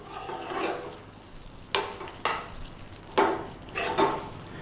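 Madras spice paste frying in a pan, a soft steady sizzle broken by several sharp scraping stirs, close and fairly quiet with no talk.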